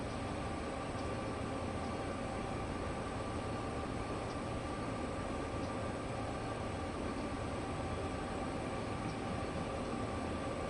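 A train sits in a rail yard in the video game Train Sim World 4, giving off a steady, unbroken rumble with a broad hiss that holds level throughout, with no one talking.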